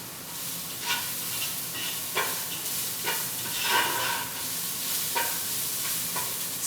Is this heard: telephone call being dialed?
no